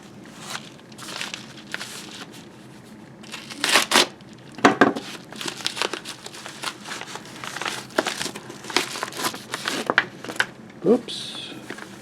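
Paper crinkling and tearing as an eBay mail envelope holding foreign coins is opened by hand, with irregular rustles and a few sharper rips near the microphone, and a person speaking intermittently.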